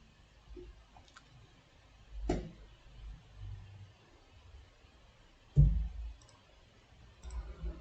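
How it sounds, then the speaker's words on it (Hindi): Computer mouse clicks while using a Flutter news app, a handful of sharp isolated clicks spaced seconds apart over a quiet background. "जैसे मैं इस पर क्लिक करूँगा"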